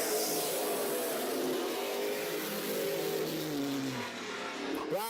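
Race cars roaring around a short oval track at a Thursday night event, engines droning steadily at a distance and swelling as cars accelerate down the back straightaway, with a rising whine near the end.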